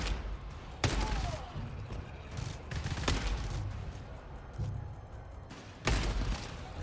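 Gunfire while shooting enemies in the game GTFO, dense bursts of rapid shots with sharp louder cracks at intervals, steady and continuous through the clip, with little talk.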